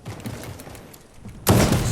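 Gunfire in a shooting video game, a muffled volley of shots under a voice that gives way to a loud sustained burst of firing at the end, close and harsh.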